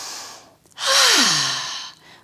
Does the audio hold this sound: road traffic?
no